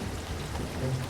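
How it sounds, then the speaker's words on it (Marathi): Heavy rain pouring down in a forest, a steady, dense hiss of falling water heard as a cartoon sound effect, continuous and even throughout the short moment. "दुसऱ्या दिवशी जंगलामध्ये मुसळधार पाऊस पडला"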